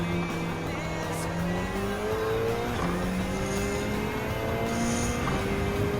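Toyota TS030 Hybrid Le Mans prototype race car in Gran Turismo 7 drones steadily at high revs, pitch climbing through gear changes with occasional tire squeals, loud and continuous.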